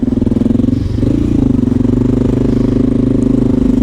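A Honda XR650L motorcycle with a Lexx silencer runs steadily, its loud, close, throbbing engine note pulsing rhythmically, with a slight lift in revs about a second in.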